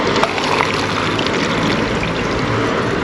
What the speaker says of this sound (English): Pours in nicely, as you can see.